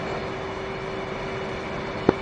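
A jet in the DCS flight sim begins its takeoff roll at Nellis, a steady, even engine roar with a faint constant whine throughout and one brief sharp click near the end.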